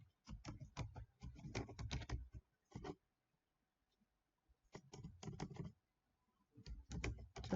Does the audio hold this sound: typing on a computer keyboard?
yes